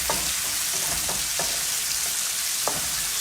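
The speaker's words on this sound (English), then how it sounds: "Stirring around your onions." Onions sizzling steadily in a hot pan while being stirred, with a few sharp scraping strokes of the utensil standing out over the continuous close frying hiss; no talking.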